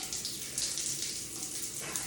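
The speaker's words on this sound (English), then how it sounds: "So let me just go right in and let my head get under the water." Cold ice-bath water sloshing and splashing continuously as a person lowers their head beneath the surface, close and fairly loud.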